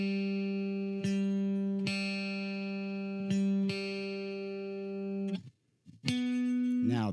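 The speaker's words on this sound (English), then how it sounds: "Go to the 5th fret of the D string. This is what your G will sound like." Guitar note G played at the fifth fret of the D string, plucked and sustained with several repeated attacks and long ringing tones, then a short gap and a new note, close and clear with no talking.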